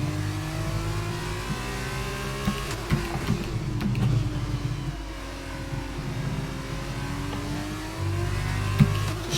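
Open-wheel race car engines in the F1 22 video game accelerating along a straight at Imola, a steady rising whine with shifting pitch and gear changes, loud and continuous.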